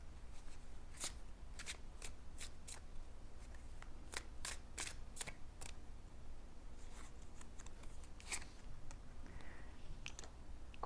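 Tarot cards shuffled by hand in a quiet room, a series of crisp riffling snaps and flicks in irregular clusters, close and fairly soft, with no talking.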